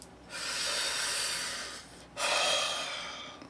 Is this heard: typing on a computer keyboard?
no